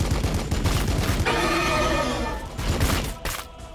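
Gunfire in Warhammer 40,000: Battlesector as Blood Angels Intercessors fire on an enemy, with loud, clustered bursts of shots at the start and end and a sustained, ringing tonal stretch between them.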